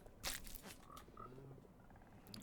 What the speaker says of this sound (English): All the frogs in the world right here.